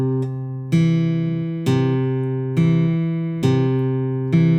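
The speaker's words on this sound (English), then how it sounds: "This will be considered a Travis fingerpicking pattern." Fingerpicked acoustic guitar in a Travis pattern, alternating bass notes under melody notes added between them, a steady plucked rhythm with a fresh attack roughly every second, close and clear with no voice.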